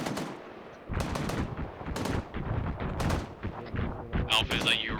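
Bursts of airsoft vehicle fire passing overhead during a milsim field exercise, rapid repeated cracks and rattles close by with radio-style talk mixed in throughout.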